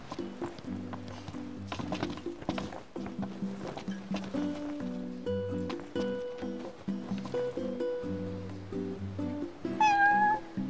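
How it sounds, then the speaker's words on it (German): A cat in Final Fantasy XV gives a short meow near the end, rising above a steady bed of layered game music that plays throughout. "Katze."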